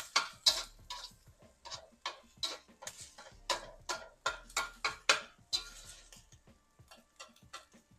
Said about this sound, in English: Try to scramble the eggs one side of the wok.